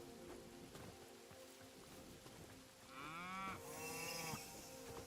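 A cow moos in the video game Hytale, a drawn-out bellow over a soft background of pattering rain, moderately faint and alone.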